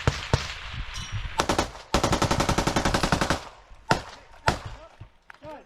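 Close, loud bursts of machine gun fire during an assault on a village in the war in Ukraine, with single sharp shots before a long rapid rattling volley, then scattered separate reports, with shouting voices in between.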